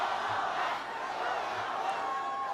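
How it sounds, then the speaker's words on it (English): A fired-up hometown crowd at a political rally in Chicago roars and cheers continuously, loud and dense, with whoops rising out of the mass of voices. "I can't think of anything better than being with a hometown crowd that is fired up"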